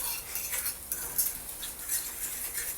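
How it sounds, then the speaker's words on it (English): Eggs and cheese are scrambled in a pan, with soft scraping and stirring clatter over a faint sizzle that comes in light, irregular strokes close up. "Just keep scrambling it up, mixing it up until eggs are done and the cheese is melted."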